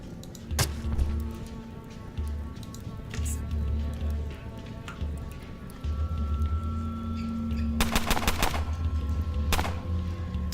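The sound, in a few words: gunfire in the video game Underrail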